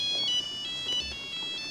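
A mobile phone ringtone chirps in short, repeating melodic bursts, fairly quiet against a hushed room, with no voices over it.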